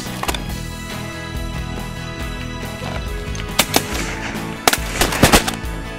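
Shotgun blasts ring out while hunting ducks in South Dakota: several sharp, loud reports, some in quick pairs, over a steady background of wind and ambient noise, with faint honking birds.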